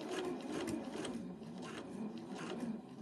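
A sewing machine runs continuously while stitching a fabric stocking shape, a fast, steady mechanical whir with rhythmic needle clatter, close and moderately loud with no talking.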